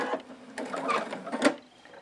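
A sewing machine pieces quilt rows with a quarter-inch seam in a quick, close, rhythmic run of needle strokes that rises and falls.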